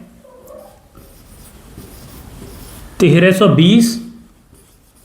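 Faint scratchy strokes of numbers being handwritten during a Class 6 maths lesson, a steady low rasp for a few seconds before a voice briefly speaks over it.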